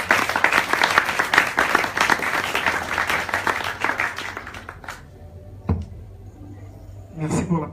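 A church congregation applauds in acclaim of the Lord, dense loud clapping for about five seconds that fades to quiet, then a few scattered claps and a brief voice.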